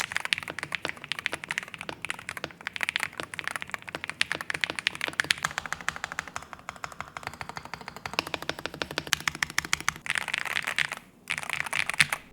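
Rapid typing on a Holofy HM80 keyboard fitted with magnetic switches, a dense, steady run of close keystrokes with a deep, solid clack and brief pauses near the end, no voice present.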